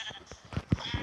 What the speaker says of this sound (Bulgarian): Тук убиваме овца. Овци!